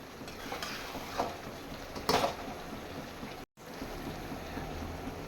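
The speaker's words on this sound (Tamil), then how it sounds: "இப்போ இதில் வந்து நம்ம நண்டை வந்து சேர்த்துக்கலாம்." Cleaned crab pieces go into a pan of curry base where the oil has separated, giving a soft sizzle with a few scraping clatters, one sharper burst of frying, then a brief dropout.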